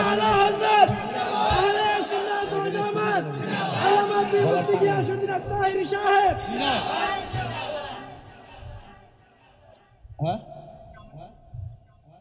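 A large crowd at a religious sermon chants a slogan in loud, rhythmic call-and-response bursts for about eight seconds, then falls quiet before a single voice rises briefly at the end.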